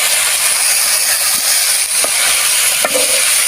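Onions frying in a pan, a steady bright sizzle with faint crackles and a few small stirring knocks, close and continuous with no talking.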